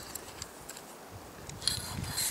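The screw cap of a UCO Grilliput Duo portable grill tube being unscrewed, a soft gritty grinding of threads with small clicks, close and quiet, ending in a slightly louder scrape.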